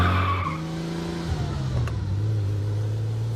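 A new car pulls away on a test drive, its engine droning low and steady with a shifting pitch as it accelerates, heard close and alone.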